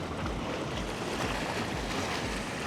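Choppy sea waves with a breeze at the InterContinental Tahiti Resort, a constant rushing wash of water with low wind rumble across the microphone, steady and close, with no voices.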